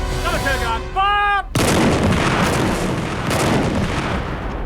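A Number 2 artillery gun fires one loud, close boom that cuts off a spoken order, followed by a long rumbling roll of echo that fades over several seconds.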